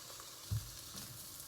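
Spinach and bacon fry in a pan with a soft, steady sizzle and one brief low clunk near the start, faint and close, with no voices.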